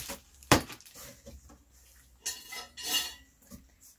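A metal baking pan from a Sunbeam Nutrioven CO3000 convection oven is handled: a sharp metallic clank, then scattered softer knocks and two brighter rattling clatters, close and fairly quiet.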